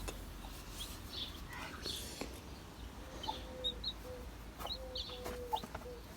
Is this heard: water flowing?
no